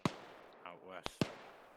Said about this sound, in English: Shots west side of town.